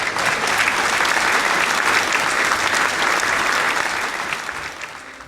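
Loud, dense applause from an awards-show crowd fills the space steadily, then gradually thins and fades toward the end.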